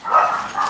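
A dog gives one short, bright yip or bark at close range, loud and brief, with no talking.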